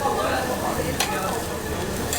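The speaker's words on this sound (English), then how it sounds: "We've got some more pork cooking." Pork sizzling on a Korean barbecue grill in Seoul, a steady dense crackle and hiss with a brief clatter of utensils, close and continuous throughout.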